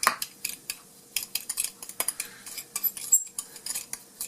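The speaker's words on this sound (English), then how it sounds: "I'm going to use a little tined fork here to kind of mix this up" A small tined fork mixes cinnamon sugar filling in a bowl, giving quick, irregular clinks and scrapes of metal against the dish, close and busy with brief pauses.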